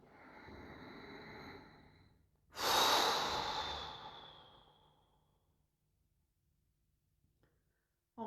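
Two long breaths during an active bio-energetic meditation: a softer airy breath, a pause, then a loud, deep rush of air fading slowly, close and alone without talk.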